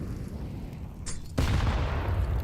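AK rifle fire and a grenade blast in Counter-Strike on the Inferno map, distant muffled shots followed by a sudden loud boom that lingers as a rumbling roar.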